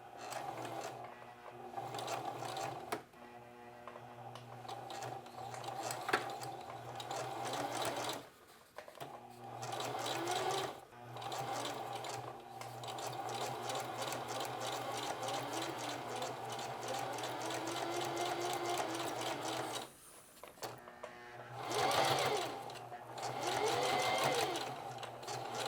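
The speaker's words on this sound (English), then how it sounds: "So now I'm going to take it over to the sewing machine. Okay, so now I'm going to lay a line of stitching right along here" A sewing machine runs long stretches of stitching along a flat felled seam, a steady rapid mechanical whir with brief pauses and restarts, close and fairly loud with no talk over it.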